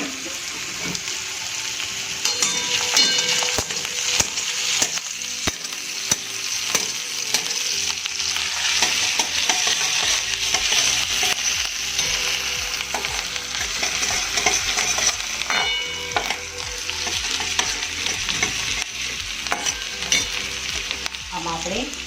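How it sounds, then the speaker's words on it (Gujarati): Garlic and green chillies fry in a hot pan for Indo-Chinese crispy chilli potato, giving a loud, steady sizzle with stirring that runs unbroken throughout, with no voices. "આને બરાબર ફ્રાય થવા દઈશું."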